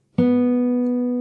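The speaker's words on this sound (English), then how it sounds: "After that you play the open G string" An open G string plucked once on an acoustic guitar in a fingerstyle lesson rings out alone, close and clear, with a sharp attack and a long, steady sustain that barely fades.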